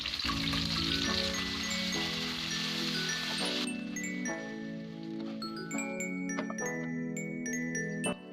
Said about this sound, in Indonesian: akan saya goreng semuanya biar rasanya lebih mantap dan lebih nikmat